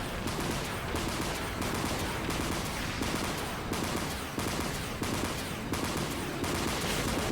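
Main guns of the Outis corvette in the video game Dreadnought, firing in a rapid, regular rhythm of sharp bursts, about one or two per second, loud and steady with no talk.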